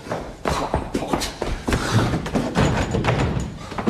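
A door in a French apartment bumping and thudding several times amid shuffling movement, with muffled voices faintly in the background.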